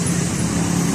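Steady roar of road traffic along Jalan Sumatera, a busy main road, with cars and larger vehicles passing close by in a continuous wash of engine and tyre noise, no voices.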